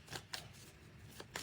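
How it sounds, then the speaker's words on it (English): Tarot cards shuffled in several short riffling bursts, close and fairly quiet, with gaps between them and no talking. "Shuffle these cards."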